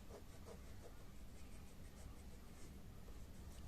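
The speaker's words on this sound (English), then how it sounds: "Now erase these helping lines." Pencil guide lines being rubbed out with an eraser on drawing paper for a fashion figure face, a steady close scrubbing friction running continuously throughout at low level.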